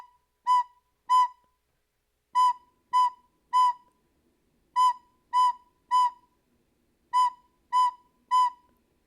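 A recorder sounding the note B in short clear tones, grouped three at a time with rests between, four groups of steady pure notes played alone in a quiet room.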